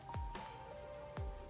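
Rain in the video game Rain Code, a soft steady patter with a couple of dull thumping drops over a faint sustained tone.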